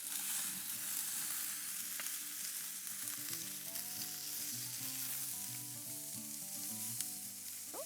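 A whole fish frying in a generous pool of olive oil in a pan, a steady, dense sizzle that holds loud and close throughout, with small pops and the occasional scrape of stirring.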